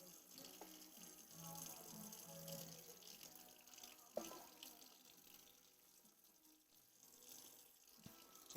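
Warm water runs from a kitchen tap into a vessel in a steady, faint rushing stream, with small clinks and shifts over the flow.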